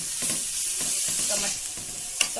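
Tomatoes and chili sizzle and fry in a pan with steady stirring, a continuous close hiss broken by soft scraping strokes and one sharp clink near the end.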